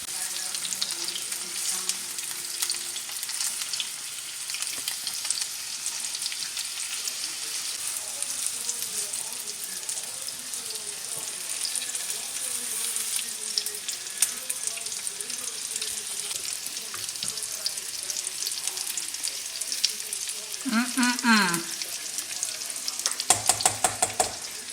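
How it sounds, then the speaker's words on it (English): Meatballs simmering in marinara sauce in a pan, a steady soft bubbling sizzle that runs throughout, with faint voices in the background and a clatter near the end. "we are going to let it simmer in that marinara sauce for about 20 minutes to get done cooking."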